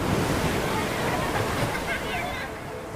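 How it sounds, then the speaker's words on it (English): Ocean surf churns and crashes in a rip current off a beach where a man was swept out to sea, a loud rushing wash of water with faint voice-like sounds mixed in. "What you are about to hear is the sound of me drowning."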